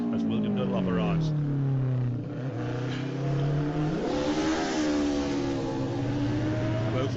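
A racing motorcycle in the Classic TT lightweight race roars loudly past on the road course, its engine note sweeping down in pitch and then climbing again as it accelerates, with a commentator talking over it.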